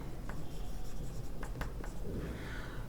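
A pen scratching across paper while a maths problem is worked out, a steady close scraping broken by a few sharper strokes and taps, with no voice.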